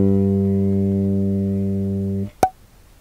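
A lone B-flat on the G string of a bass guitar sustains evenly for just over two seconds, loud and close with no talk, ending in a muted stop and a brief click.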